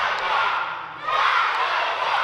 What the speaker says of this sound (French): Un autre cri de la foule.